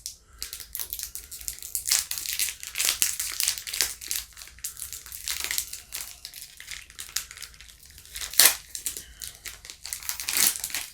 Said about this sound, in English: How do you tear them open without crushing the cookies?